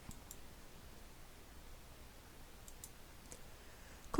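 A single soft mouse click sounds near the end of a quiet stretch in ArcGIS Pro, with a few faint ticks scattered before it over low background hiss.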